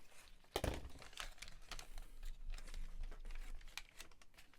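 Scissors snipping off a small fold of material during a craft make, a sharp cut near the start followed by soft crinkling and rustling of the material, close and fairly quiet with no talking.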